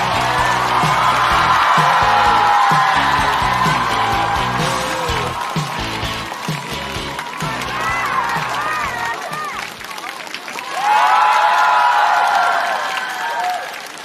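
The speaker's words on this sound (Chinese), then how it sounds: "掌声有请" Studio audience at a Chinese stand-up comedy contest (Rock & Roast season 5) bursts into loud, sustained applause with cheers as a comedian takes the stage, easing briefly before swelling again near the end.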